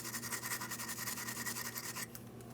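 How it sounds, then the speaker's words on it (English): A wire brush scrubs a rear brake hose bracket on a 2007-2014 Ford Edge, giving a steady, close, rapid scratching that stops abruptly near the end, leaving quieter background noise. "Wire brush."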